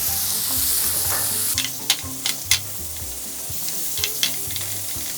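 Yeolmu radish greens and pork stir-frying with doenjang in a pan, a steady loud sizzle broken by several sharp crackles and stirring clatters, with no voices.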